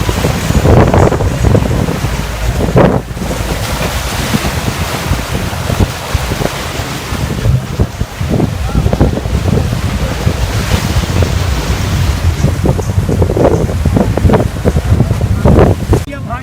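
Wind and sea waves at a flooded dam near Karachi, a steady broadband roar with gusty buffeting on the microphone, loud and continuous throughout with brief bursts of distant voices.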